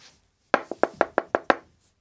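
Seven quick, sharp knocks rap on a door in a rapid, slightly uneven rhythm, close and clear against a quiet room.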